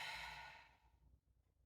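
A single deep, slow exhale during a Pilates stretch, loud and close at first, then trailing off into quiet breath noise.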